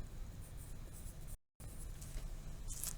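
A word is handwritten on paper in quick scratchy strokes, soft and close. A brief silent gap breaks the writing before more strokes follow.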